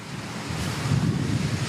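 Strong wind buffets the microphone outdoors in Kyiv as a storm suddenly breaks, a rough, swelling rush that grows louder toward the end, with no voices.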